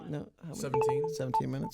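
A mobile phone gives a few short, thin electronic beeps, partly masked by a person talking over them.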